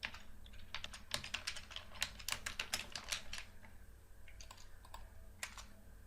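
Quick, irregular bursts of key clicks from a computer keyboard as HTML code is typed, close and crisp over a low steady hum, with no voices.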